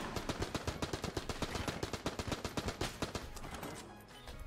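Tommy gun in the video game Enter the Gungeon firing a long rapid burst, sharp evenly spaced shots in quick rhythm, loud and dry, trailing off near the end.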